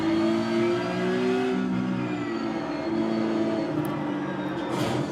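Race car engines in the iRacing sim hold a steady, loud, tonal drone with subtle pitch shifts, a continuous revving roar with no talk over it.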